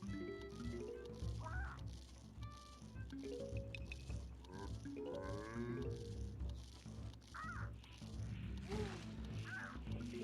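A seagull zombie in Plants vs. Zombies 2 at a pirate seas beach squawks in a few short, faint calls over busy game music and effects.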